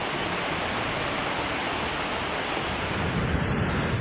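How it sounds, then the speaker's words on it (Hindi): Floodwaters of the swollen Chandrabhaga river surge in a steady, loud, broadband roar of churning water with a wind-buffeted rush, continuous throughout with no voices. "गंगा घाट से चंद्रभागा के छोर तक लहरों का रौद्र रूप दिखाई दे रहा है"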